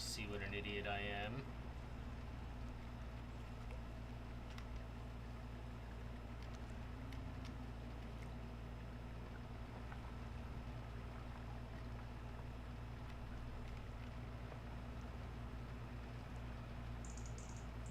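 Tractor engine in Farming Simulator 25, a steady low mechanical drone that runs continuously throughout, with a short higher tone near the start and a voice talking over it.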